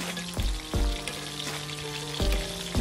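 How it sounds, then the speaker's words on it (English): Fish fries in hot oil on a medium stove while oil is spooned over it, giving a steady close sizzle broken by several sharp splashy bursts as the spoon dips and pours. "So here I am just spooning the hot oil over the fish."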